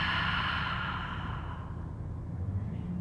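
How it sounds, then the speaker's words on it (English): A deep, drawn-out breath during a yoga flow, a long soft airy exhale that fades over about three seconds, close and alone with no talking. "Take a deep breath"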